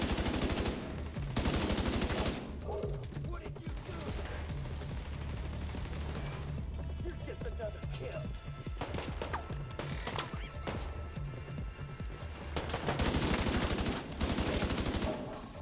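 Rapid turret gunfire in a video game, bursts of dense automatic shots in several volleys with quieter gaps of rumbling action between them, close and loud.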